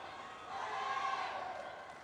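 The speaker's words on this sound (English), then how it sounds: "Crowd so invested and loud." A large crowd at a Commonwealth Games men's singles badminton semifinal, a sustained roar of cheering that swells in the middle and stays loud throughout, distant and diffuse.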